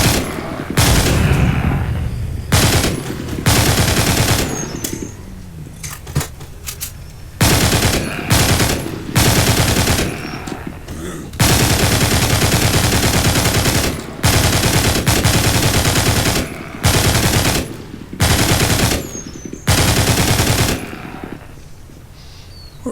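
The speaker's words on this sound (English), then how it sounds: "I don't know how to get rid of this Gatling gun either." A Gatling gun firing in a video game, long loud bursts of rapid automatic fire broken by short pauses, sustained and close, with no talk over it.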